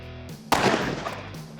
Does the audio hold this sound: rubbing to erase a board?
no